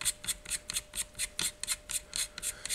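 A castle nut being tightened on a single point sling adapter, a rapid series of about fifteen short, dry metallic rasping clicks in an uneven rhythm, close up and alone.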